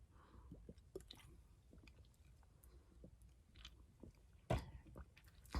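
Diet Dr. Pepper soda being drunk, with soft close sips, swallows and small wet mouth sounds in an irregular rhythm, ending in a louder burst near the end, with no talking.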